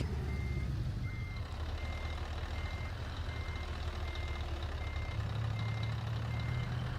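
Truck reversing beeps in a trucking video game, a regular series of evenly spaced electronic beeps over a constant low engine rumble, moderately loud with no talk.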